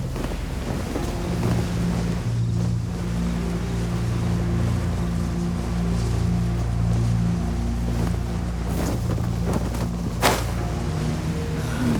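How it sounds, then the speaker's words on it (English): Calm ocean waves in the Genshin Impact video game, a steady full wash of surf and water blending with a low, continuous engine-like drone, loud and unbroken throughout. "Waves are as calm as always."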